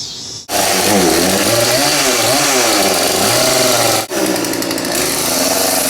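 A chainsaw roars loud and close as it cuts into wood while a full-size George Washington figure is carved, revving and bogging as it bites, with two brief dropouts where the blade pauses.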